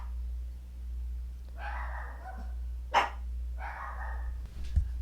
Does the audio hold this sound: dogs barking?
yes